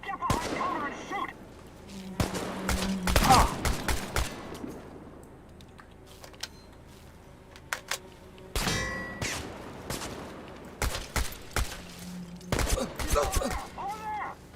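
Gunfire in a firefight in the video game Chernobylite: bursts of loud sharp shots and metallic clangs in clusters, with quiet gaps between them and some shouting voices.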